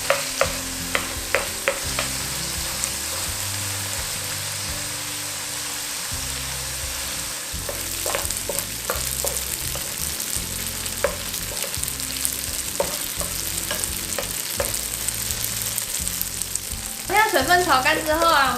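Tofu stir-fried in a pan until its moisture cooks off, a continuous close sizzle broken by repeated spatula scrapes and taps against the pan.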